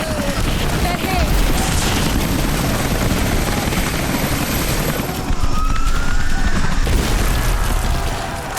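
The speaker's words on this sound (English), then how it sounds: "Those choppers should be in range soon." Helicopters arrive in Rise of the Tomb Raider, their rotor roar loud and continuous throughout with a deep, steady low thump, a brief swell near the middle and rumbling game ambience underneath.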